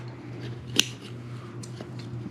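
Scissors or a punch cutting circles out of material for a 37 mm smoke bomb, one sharp close snip followed by a couple of fainter cuts over a low steady hum.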